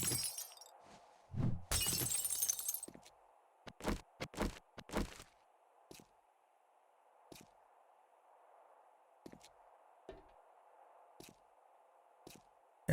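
Glass shattering in the survival game 7 Days to Die, a loud crashing break followed by several sharp separate smashes, then a few faint scattered clinks over a low steady hum.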